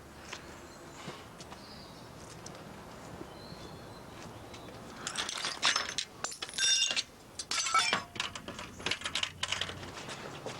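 A man smashes glass to break into a house, heard after a quiet stretch as a series of sharp, crashing bursts with bright clinks and tinkling shards, fairly close and loud, with no talking.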